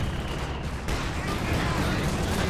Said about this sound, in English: another barrage from that Scot out the back